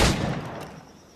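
A single pistol shot goes off in the Assassin's Creed Black Flag video game. It starts with a loud burst that fades into a short reverberant tail.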